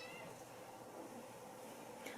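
A playful female kitten gives a faint, thin meow early on, quiet and somewhat distant against a steady low room hiss.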